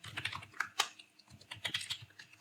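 Fast, uneven typing on a computer keyboard while writing JavaScript code, close-up clicks in quick bursts with a brief pause midway.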